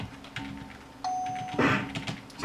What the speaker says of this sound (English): There goes the chime.